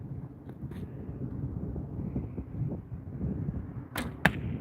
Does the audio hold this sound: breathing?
no